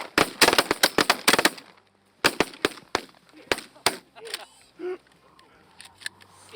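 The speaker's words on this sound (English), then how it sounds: "we pass shot the heck out of those cranes" Shotguns fire in rapid volleys while hunters pass-shoot at cranes in an open dry field, a dense cluster of loud, close cracks, then scattered single shots as voices call out between them.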